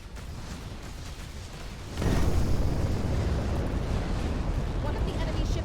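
A sudden heavy blast from an enemy ship being destroyed in the space video game Between the Stars erupts about two seconds in, then holds as a loud, sustained roaring rumble over a quieter background.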